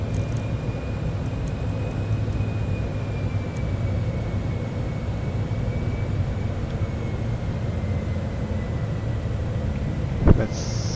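A Cessna aircraft in Microsoft Flight Simulator 2024 takes off with a steady, loud engine drone that holds throughout, with a faint high whine and a short click near the end.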